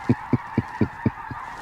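Wild geese honking in a steady rhythm, six loud calls spaced about a quarter second apart over a constant background hum, the last call slightly softer.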